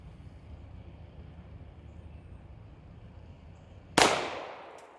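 A single sharp gunshot cracks out loud and close after several seconds of low outdoor rumble, fired at shovels as a target, with a bright decaying tail.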